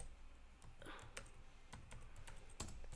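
Rapid computer keyboard typing while entering a Sims 4 cheat code, a fast run of crisp clicks and key taps with a few sharper strokes over a faint background.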